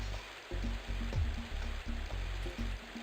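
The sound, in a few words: waterfall in the Freddi Fish video game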